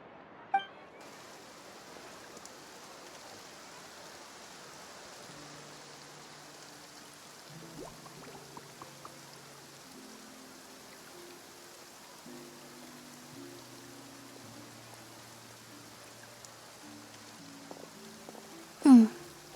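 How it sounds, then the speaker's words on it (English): Light rain patters softly and steadily in the Fontaine region of Genshin Impact, a faint continuous wash under quiet low musical tones, with a couple of brief clinks near the start and end. "Looks like rain."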